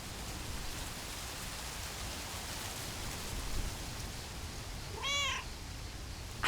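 A single cat meows in the Lake video game, a short clear call rising over a constant soft rain-like hiss.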